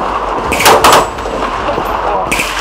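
A Lithgow F90 bullpup rifle fires single shots, two loud sharp reports close together near the start and another near the end, with a steady outdoor background between them.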